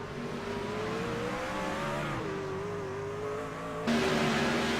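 A race truck's engine revs up and pulls away from pit road, its tone climbing through gear changes and then jumping louder near the end, with no voices over it.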